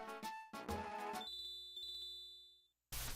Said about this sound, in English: I'll just ring the friendship bell for you, Team Rockin'.